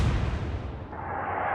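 A heavy cruiser fires high-explosive shells in the naval game Atlantic Fleet: a single loud, low boom with a rumbling tail that slowly fades.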